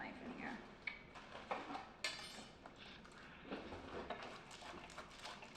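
Kitchen utensils clatter and clink as someone rummages for a big chef knife, with scattered metallic knocks and scrapes, while a voice talks in the background.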